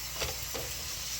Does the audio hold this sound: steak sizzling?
yes